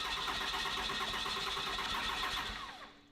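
A car engine being cranked and fired up, its starter whine and uneven catching running steadily for nearly three seconds before the sound quickly dies away, fairly quiet overall and with no voices.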